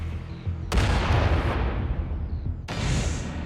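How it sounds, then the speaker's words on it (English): Live tank cannon fire during training maneuvers: two loud, deep booms, the first rolling on for nearly two seconds and a second blast following, with no voices. "It's not unlike some of the live-firing tank maneuvers operating at Fort Irwin"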